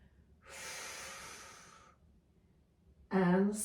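A person exhales audibly through the nose and mouth while lifting a leg during a floor exercise, one long steady breath out, then a sharper, louder snort-like breath follows after a short pause.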